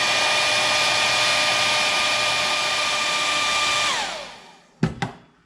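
Hair dryer blowing steadily on wet watercolor paint, a loud constant whine for about four seconds that winds down as it switches off, followed by two sharp clunks of it being set down.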